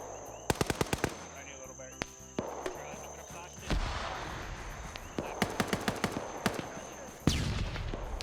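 Bursts of machine-gun fire in a shooter game, sharp rapid cracks in short strings, some close and loud, others quieter, over a steady high tone with a voice talking through parts of it.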